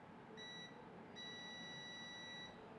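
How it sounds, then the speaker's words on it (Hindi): A multimeter on continuity test beeps against a mobile phone board, giving two steady high tones, one short and one longer, over a quiet background hiss. "देखिए, ये बीप दे रहा है।"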